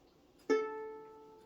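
One clean violin note on the A string starts suddenly and holds, bright and even, slowly softening in a quiet room.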